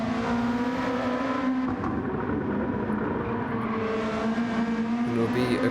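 Lexus RC F touring car, number 56, racing at the Nurburgring in a sim racing series, its engine holding a steady high-revving drone close up with faint gear shifts, under light commentary.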